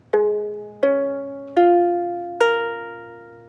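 Low G ukulele with a capo on the first fret, four single strums spaced evenly, each ringing out clearly and decaying before the next, alone with no talking.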